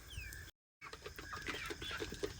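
Hungry chickens cluck softly at feeding time: quiet, scattered clucks and chirps come in an irregular stream at moderate distance, with a brief dropout early on.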